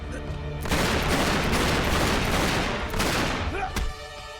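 Rapid bursts of video game gunfire from Uncharted 3, a dense fusillade of overlapping shots that fills most of the stretch before cutting off abruptly, loud and close with no talk.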